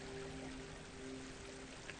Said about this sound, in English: I've added just a little bit of water, a couple of small fountains there. So that way, I think the sound of water is always very relaxing